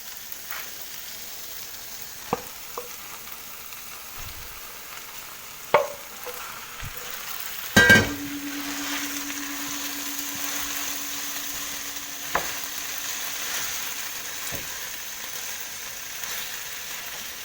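Seasoned ground beef sizzles steadily in a pan, a soft continuous frying hiss punctuated by occasional clicks and utensil knocks, one louder clatter midway followed by a lingering tone, with no talking.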